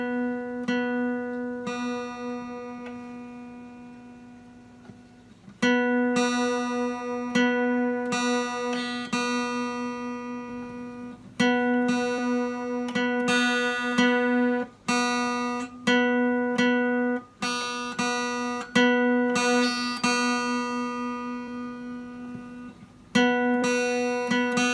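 Guitar high E string being tuned against the second string at the fifth fret, with repeated plucked notes ringing and decaying alone, sometimes two strings together, in a slow, irregular series.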